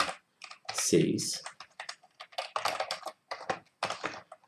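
Typing on a computer keyboard during web coding, with quick key clicks running under a man's continuous Portuguese speech.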